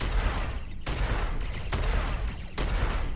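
Heavy video game battle gunfire: several guns blasting together in a dense, loud fusillade, with bursts that cut out sharply and restart twice, no talk over it.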